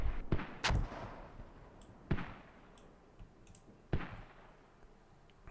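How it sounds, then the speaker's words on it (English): Mortar shells explode in a competitive multiplayer video game match, four sharp booms landing at irregular intervals against a quieter background of game noise. "Now they got mortars going down"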